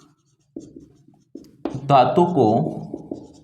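Someone writes on a board during a Class 10 chemistry lesson on metals and non-metals, with short scratchy strokes followed by someone speaking over them.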